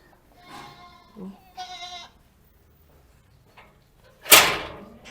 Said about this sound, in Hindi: ये दरवाजा खुल गया जी